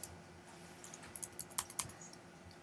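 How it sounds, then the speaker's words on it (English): Keys on a computer keyboard are struck with quiet, close clicks, a scattered run of separate taps that grows slightly busier toward the middle. "Hit X on your keyboard"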